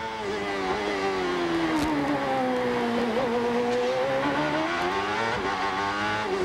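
Onboard Richie Hearn's CART race car at Long Beach in 1999, the engine screams loudly as it accelerates, its pitch climbing steadily through the gears with brief dips at shifts and faint tire noise underneath.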